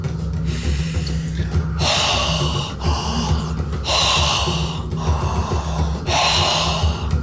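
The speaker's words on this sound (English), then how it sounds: "I'm breathing deeper" Deep, forceful breathing exercise: long, loud rushing breaths alternating in a steady rhythm, each lasting about a second, close to the microphone with a low hum underneath.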